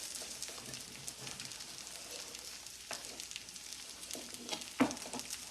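A Cajun-seasoned ribeye steak sizzles in a pan, a steady soft hiss of frying fat with a few small pops and crackles, close but fairly quiet and with no talking.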